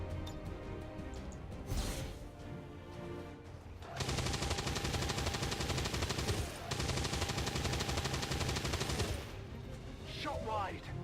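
Ballistic weapons fire in XCOM 2, rapid machine-gun bursts rattling loudly in two long sustained volleys, preceded by quieter shots and shuffling, with a brief whoosh at the end.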